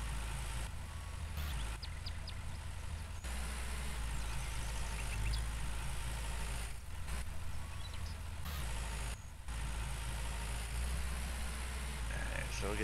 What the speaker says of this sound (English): This is a four-wheel drive tractor and I can't even back up